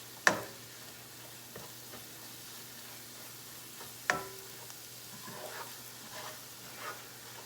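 Spices with cinnamon stirred in a pan for butter chicken, a low steady sizzle with a couple of sharp spoon knocks against the pan and softer scraping taps.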